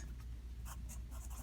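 A pen scratches briefly on paper while numbers are written out by hand, a few quick faint strokes over a low steady room hum, close by and quiet.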